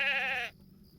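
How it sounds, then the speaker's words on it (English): A stolen ewe in the Lord of the Rings Online video game gives a single close, clear wavering bleat that cuts off abruptly halfway through. "here's the stolen sheep"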